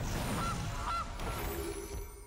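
A cartoonish goose honks twice in quick succession as the Gilded Goose card is played in the MTG Arena video game, set over a steady game soundtrack bed.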